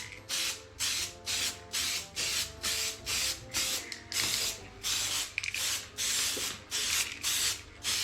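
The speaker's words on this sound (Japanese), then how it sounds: "はい、カラーアルミスプレー。" Aluminium-coloured aerosol spray paint hisses in repeated short bursts with brief gaps, close and steady, over a faint background hum, indoors during a restoration of a Honda NSR50 moped.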